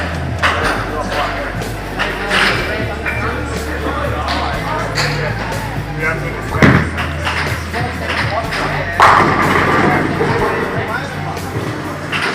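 An Ebonite Destiny Solid bowling ball, fresh out of the box, rolls down a bowling alley lane with a steady low rumble and a few thuds, ending in a sharp pin-strike burst, amid crowd babble and background talk.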